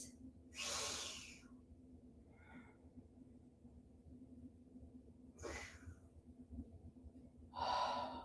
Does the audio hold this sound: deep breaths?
yes